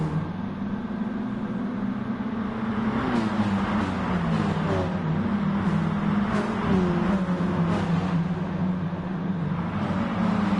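Hot hatch cars racing flat out at Interlagos in Gran Turismo Sport, a loud, sustained chorus of engines droning and rising in pitch as they accelerate down a long straight, with no speech.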